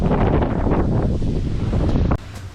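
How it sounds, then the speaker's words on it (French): Strong wind roars across the microphone beside a gravel-pit lake churned by waves, a loud, steady blast that cuts off abruptly near the end. "Il y a des vagues de fou"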